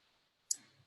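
A single sharp computer mouse click, very brief and faint, standing alone in near silence.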